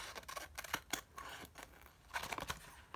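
Scissors snip along the bottom edge of a length of fabric as it is tidied into a straight line, giving a run of crisp, close cuts in irregular bursts with short pauses between them.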